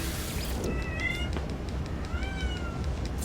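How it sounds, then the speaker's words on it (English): Pet cat meowing twice, short, clear mid-pitched cries over a steady low background hum. "my cat just fell out of the ceiling"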